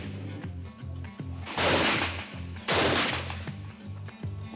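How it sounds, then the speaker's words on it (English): A single rifle shot fired at a 50-metre target on an outdoor range rings out loudly, followed shortly by a second sharp report, each decaying over a steady low mechanical hum. "Single shot at 50 metres."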